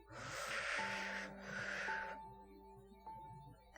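A long, slow deep breath drawn in during a guided relaxation session, a soft airy rush that swells, dips briefly and rises again. A quiet musical drone sits underneath.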